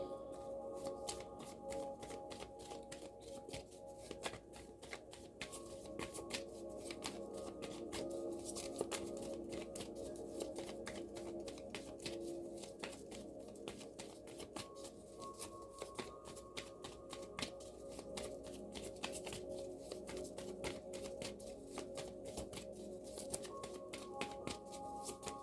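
Affirmation cards are shuffled for a long stretch in rapid, dense riffling bursts that repeat close and fairly quiet, with no voices.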